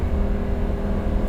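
A Lamborghini Gallardo Spyder engine drones loudly and steadily from inside the car during a downshift, with a dense low rumble throughout.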